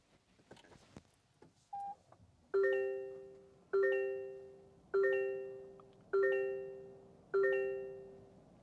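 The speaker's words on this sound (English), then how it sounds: "We do have that new Toyota hybrid startup chime on board." Startup chime of a 2023 Toyota Corolla Hybrid, five clear, evenly spaced melodic tones ringing inside the cabin, each decaying before the next, preceded by faint clicks as the brake is pressed and the start button pushed.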